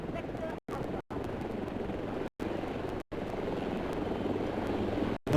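Russian Ka-52 helicopter in the Delta Force shooter, its engine and rotor drone rumbling continuously at moderate volume, broken by several brief dropouts, with a voice speaking over it.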